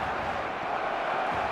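Stadium crowd noise from the football game eFootball 2026, a steady, dense roar of many distant voices that holds at an even level throughout, with no single voice standing out.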